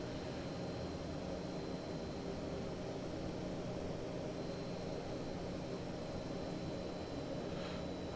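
Twin propeller engines of a Fokker F27 in a flight simulator game, a steady, dense droning roar with a faint constant tone above it, even and unbroken for the whole stretch.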